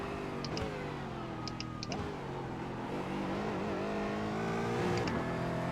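Race car engine in the iRacing sim at Las Vegas, a steady droning engine note held at moderate revs, with a few brief rises and dips in pitch through a corner, and no voices.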